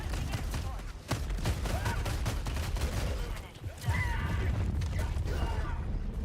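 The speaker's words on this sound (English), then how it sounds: "I've never used this gun before." Gunfire in a video game rattles in rapid clustered shots with mechanical clicks and clatter, fairly loud and continuous through the moment.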